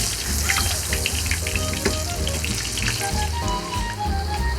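Pork fries in a pan of oil with a dense, loud, continuous sizzle and crackle, while faint tonal music plays underneath throughout.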